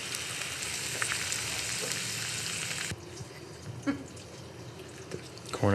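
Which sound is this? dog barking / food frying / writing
food frying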